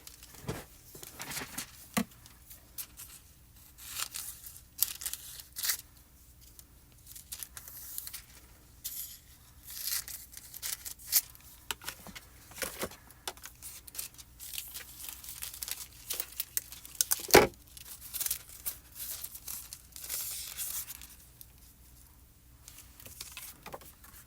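Foil for card crafting is cut and torn off, giving scattered crinkles, snips and sharp tearing bursts over a quiet background, with one loud rip near the end.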